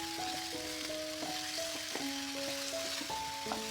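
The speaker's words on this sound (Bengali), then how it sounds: "এবার নেড়েচেড়ে সমস্ত উপকরণ মিশিয়ে দিতে হবে তেলের সাথে।" Chopped spiny gourd (kakrol) and other cut ingredients are stirred together in hot oil, giving a steady, close frying hiss under soft melodic background music.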